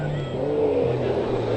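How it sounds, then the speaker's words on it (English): A Can-Am Maverick side-by-side at the Cattle Country Rally, its engine over-revving in a short, loud, droning burst with the pitch shifting up and then down. "that classic over-rev style, the Maverick Can-Ams coming out in force across the border"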